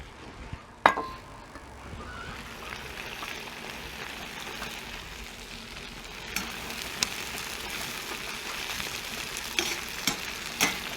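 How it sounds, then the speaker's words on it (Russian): Beef and onions sizzle steadily in a kazan for a Georgian ojakhuri of fried potatoes with meat, a soft continuous frying hiss with occasional clinks and stirring scrapes of a utensil against the pot. "Отправляем лук и обжариваем теперь с луком."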